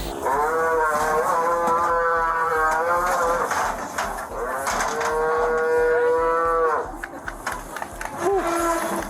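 A cow moos loudly and repeatedly in long, drawn-out calls while police officers wrestle it, with a brief pause near the end before another short bellow.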